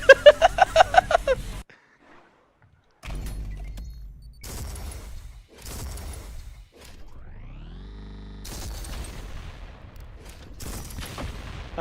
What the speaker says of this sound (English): It's a fully automatic shotgun.